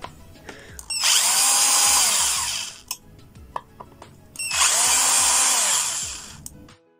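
Power screwdriver whirring in two sustained bursts of about two seconds each as it backs screws out of a high-power charger case, with small clicks and handling knocks between runs.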